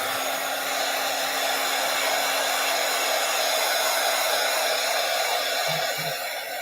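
A hair dryer blows steadily at close range to dry wet paint, a loud, even whooshing roar with a constant hum that runs unbroken from start to finish.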